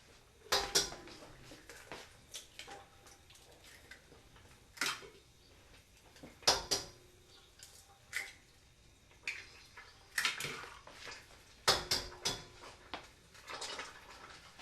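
About six eggs are cracked into a bowl for an Italian pasta and eggs dish, with scattered sharp taps, clicks and clinks of shell and bowl, some faint, spread irregularly with quiet gaps between.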